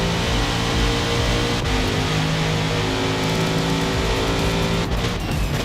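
Race cars roar around Watkins Glen in a racing video game, a loud continuous engine drone with shifting pitch and brief tyre squeals as a Viper bounces out of the chicane.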